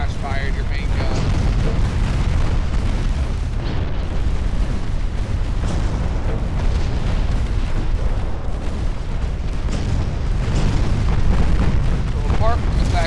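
Warship main gun flash fire in Ultimate Admiral Dreadnoughts, a dense continuous rumble of explosion and booming naval gunfire, loud and sustained throughout with no talk.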